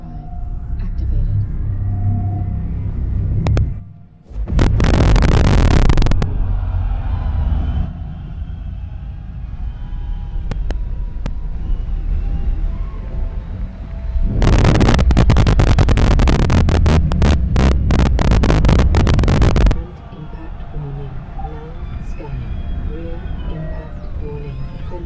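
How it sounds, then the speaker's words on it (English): A spaceship's quantum drive in Star Citizen spools up, with a roaring rumbling surge that drops out, resumes and then cuts off, while people talk over a constant engine hum. "Quantum drive activated."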